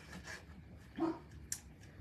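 Dogs bark indoors in a quiet room: one short, moderately loud bark, then a sharper brief yip, each standing alone against a low background.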